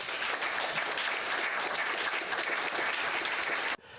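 A canned applause sound effect: dense, steady clapping from a large crowd that holds at an even level for several seconds, then cuts off abruptly near the end.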